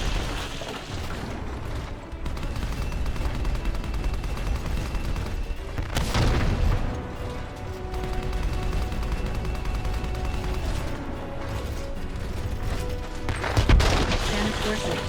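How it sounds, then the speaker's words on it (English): Machine gun fire in the video game Left Alive, dense sustained bursts with heavy booms layered over a constant loud din, swelling near the middle and end. "Machine gun."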